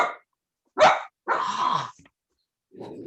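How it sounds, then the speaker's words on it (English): A pet dog named Millie barks indoors in three sharp, loud bursts with short gaps between them, then gives a lower, softer growl-like bark, with no talking over it. "Millie, you never bark like this."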